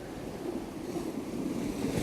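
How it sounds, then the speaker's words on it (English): Sea waves lap steadily against stone steps along the shore, a continuous close wash of surf and splashing water with a soft rush of wind and no voices. "these waves are lapping up onto the steps."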